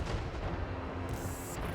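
A heavy blast booms in a Total War: Warhammer battle between Lizardmen and Nurgle, a dense sustained roar of rumble and crackle filling the whole moment with no talk.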